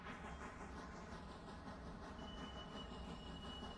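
Steam locomotive in the railroad game Railroader rolls along with a steady dense rumble and rhythmic clatter, a faint hiss riding on top, loud and unbroken throughout.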